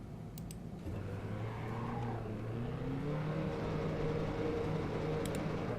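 A Ford Transit van's engine in the Assetto Corsa racing game at Brands Hatch Indy, a steady drone that rises in pitch as it revs up through the gears, continuous and close throughout.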